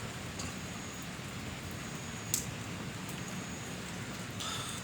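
Steady rain patters down at an Indonesian public cemetery at night, a soft continuous hiss with faint scattered drops and one brief sharper tap midway.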